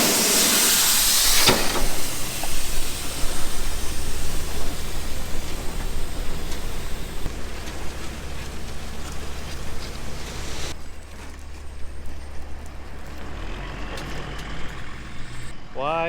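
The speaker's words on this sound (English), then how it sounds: "Gonna dump his belly dump load right here." A belly dump truck releases a gravel load into a sand box area, giving a loud, sustained hissing rush with low engine rumble throughout, the pour cutting off partway and leaving quieter rumble and faint scraping.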